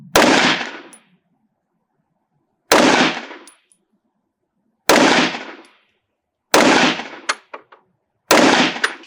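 Five sharp pistol shots from a Springfield Armory Echelon 4.5F firing Hornady Critical Defense rounds, loud and spaced a second or two apart, each ringing out briefly, one followed by a quick faint clink.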